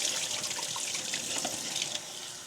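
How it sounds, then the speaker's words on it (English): Produce being rinsed under a running kitchen tap, a steady close rush of water splashing against the items and sink for the whole stretch, with no talking. "I'm just washing these because they have not been washed. Give them a good rinse."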